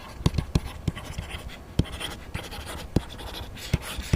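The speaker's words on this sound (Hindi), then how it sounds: "सबसे पहले हम लिखेंगे यहाँ पे अपना गिवन डाटा।" Pen scratching and tapping as the given data of a school physics numerical are written out, irregular short strokes and sharp taps close by, with no speech over them.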